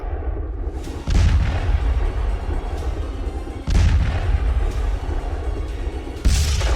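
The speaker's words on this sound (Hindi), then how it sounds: "लॉन्चिंग से ठीक पहले ही इजरायली एयरफोर्स ने इसे उड़ा दिया" Explosions from an Israeli air force strike on an Iranian missile just before launch: three heavy booming blasts roughly every two and a half seconds, each followed by a loud rumbling roar, with no talk.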